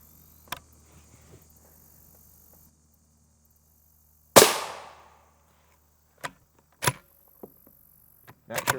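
A single sharp rifle shot cracks at an armor plate 45 feet away, loud and close with a brief decaying tail, surrounded by quiet and a few small clicks and knocks of handling.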